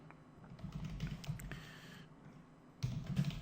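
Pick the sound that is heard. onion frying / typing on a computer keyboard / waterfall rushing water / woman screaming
typing on a computer keyboard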